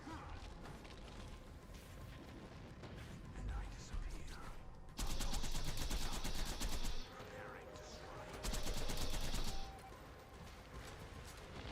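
Rifle fire crackles in Borderlands 2 in two sustained rapid bursts amid busy game sounds and effects. The shots are loud and dense, separated by a stretch of lighter in-game noise.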